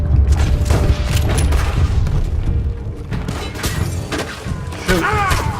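Gunshots from dual-wielded volcanic pistols in the video game Red Dead Redemption 2, a run of loud, booming bursts and thuds layered over in-game clatter and voices.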